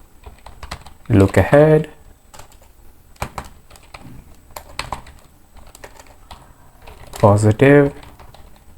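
Computer keyboard keys clatter in quick irregular bursts of close taps, with someone speaking intermittently over the typing.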